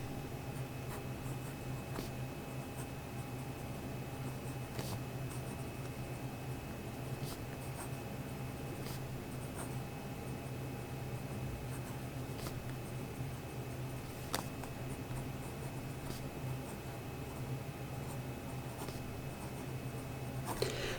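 A fine-nib Wing Sung 3013 fountain pen, filled with Monteverde Sapphire ink, scratches lightly across smooth Clairefontaine paper in a quiet, steady run of faint strokes, with occasional tiny ticks as the nib lifts and lands.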